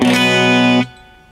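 A single strummed electric guitar chord with an open B string rings out with a bright, effect-colored tone, sustains briefly, then is cut short, leaving faint room noise.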